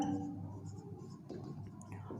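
A pen scratches across paper while the third point of a physics derivation is written out. The faint, soft scribbling is brief and close, with slight breathy noise behind it.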